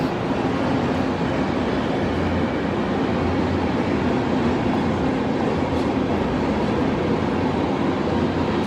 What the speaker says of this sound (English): Oh, by the way, more from the trains.